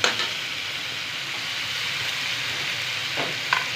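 Tinola cooking in a pot makes a steady, loud sizzle with a hiss like frying. A few brief clinks and scrapes of stirring come near the end, and no one speaks.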